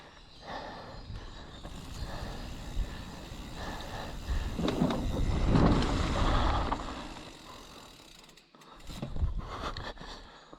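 A mountain bike rolls into a dirt jump on a backyard trail. Tyre crunch and ticking freehub ratchet swell to a loud rush, then briefly hush before a thudding return.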